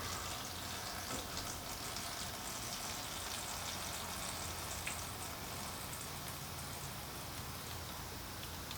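A steady, even pour of oil draining from a Yerf-Dog go-kart into a container below, a continuous soft hiss and trickle that stays constant throughout.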